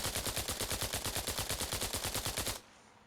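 Full-auto burst from a SCAR rifle in a video game, about two dozen rapid, evenly spaced loud shots in one sustained string that cuts off abruptly, leaving a brief quiet tail.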